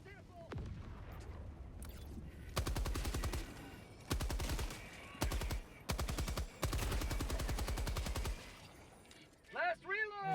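A medium machine gun in Helldivers 2 fires in several long, rapid bursts separated by short pauses, loud and close, with a voice speaking briefly near the end.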